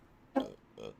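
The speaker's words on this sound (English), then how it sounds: "Thanks for burping," Two short burps from a man, one right after the other, the first louder and sharper, the second lower and a bit longer, close to the mic with no talk over them.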